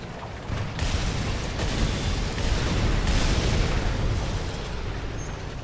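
A tank cannon fires in War Thunder during a flanking attack on a T-44, bringing a heavy booming blast that rumbles on with low mechanical engine noise. The sound stays loud and steady across the clip, and no one talks.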